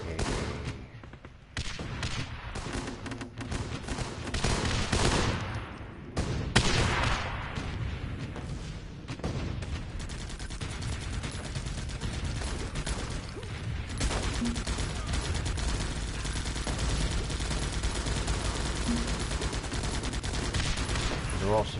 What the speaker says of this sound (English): They're all suppressed shots.